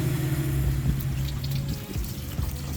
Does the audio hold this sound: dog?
no